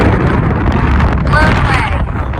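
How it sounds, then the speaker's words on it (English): Strong wind buffets the microphone at the top of a trail in Arches National Park, a steady, loud roar with faint voices under it. "We're about to get blown away by this wind."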